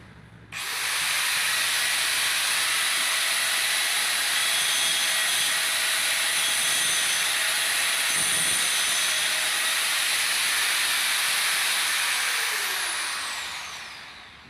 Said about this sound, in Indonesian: Kita akan melaksanakan pengerjaan penggerindaan